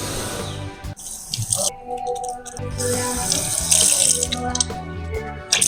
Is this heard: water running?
yes